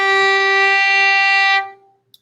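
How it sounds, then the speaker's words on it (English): A violin sounds a G on the D string, stopped with three fingers: one clear bowed note held for about a second and a half, then released into a short ring and a faint click. "3 fingers for violin and viola sounds like this"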